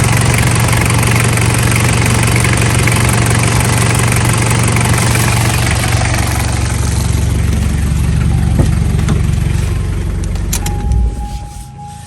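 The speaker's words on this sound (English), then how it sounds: "I don't have a muffler on this, by the way, so it is a little louder than normal." A Toyota Prado's 1KZ-TE diesel engine, fitted with a cheap replacement cylinder head and running without a muffler, idles loud and close with a steady, smooth rumble, then cuts off near the end.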